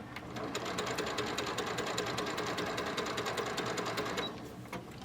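A sewing machine runs steadily while stitching a bag lining, a fast continuous mechanical whir with rapid clicking that holds for about four seconds before stopping near the end.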